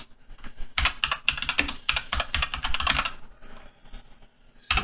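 Rapid typing on a computer keyboard comes through as dense, close clusters of crisp key clicks, then a short pause and a final burst of keystrokes.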